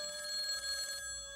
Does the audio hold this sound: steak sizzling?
no